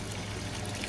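Water trickles steadily into a homemade aquarium top filter, splashing down onto the mechanical filtration layer in one short, continuous, close wash of sound.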